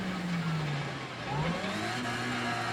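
A small rally car engine in Assetto Corsa Rally revving hard, its pitch sweeping down and climbing again through gear changes, loud and continuous throughout.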